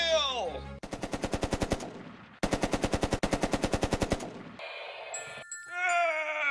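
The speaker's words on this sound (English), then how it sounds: "Everybody fire at will!" Rapid machine-gun fire in a stop-motion toy battle against a giant lizard monster, two long bursts of evenly spaced sharp shots, close and loud, bracketed by squealing creature cries and bleating-like calls.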